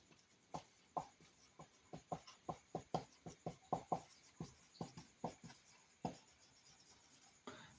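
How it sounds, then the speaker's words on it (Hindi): Someone writes on a board or paper, making a steady run of soft, close tapping and scratching strokes, each followed by a brief pause, with no talking. "यहाँ पर लिख देता हूँ।"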